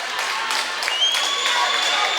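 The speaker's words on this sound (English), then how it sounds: "They've got a good-sized crowd, and they're making some noise." A good-sized crowd at a high school volleyball match between Lorain and Bedford applauds and cheers. A busy, hissing wash of clapping and whistling fills the gym while a commentator talks over it.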